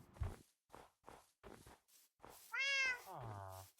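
A cat meows once in the Minecraft video game, a clear rising-and-falling call that follows a series of soft, evenly spaced footstep taps.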